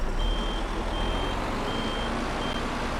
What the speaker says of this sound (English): It'll be easier for me to probably move the root crop harvester to back up a little bit.